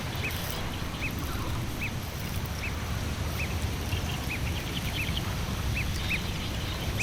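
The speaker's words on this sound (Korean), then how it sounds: "새끼의 울음소리는 더욱 커졌습니다." A great crested grebe chick calls for its parent on the water. Faint, short peeping notes repeat at irregular intervals over a steady outdoor wash of water and wind, and no one speaks.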